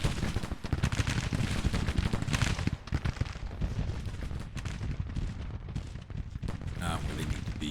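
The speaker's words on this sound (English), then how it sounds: "Problem is they are taking flanking fire." Gunfire crackles through a video game battle with flanking fire, dense bursts of shots and rattling fire in a busy, loud mix that continues throughout.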